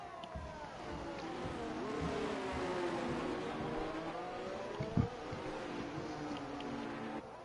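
Racing cars in a sim racing game on an Austria circuit, a sustained engine whine rising and falling as they accelerate and shift, steady and moderately loud with a brief knock partway through, no talking.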